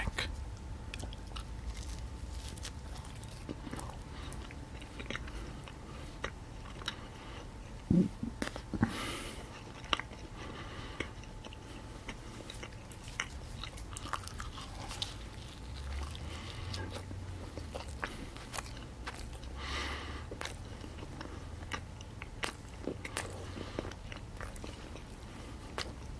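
Close, quiet chewing and biting on a slice of Pizza Hut stuffed crust pizza, soft moist crunches and mouth sounds recurring steadily over a low background hum, with a few sharper bites.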